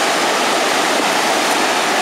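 Ocean surf at Monte Gordon beach roars in a loud, steady broadband wash of breaking waves, continuous and close with no voices over it.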